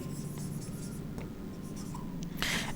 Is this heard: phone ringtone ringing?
no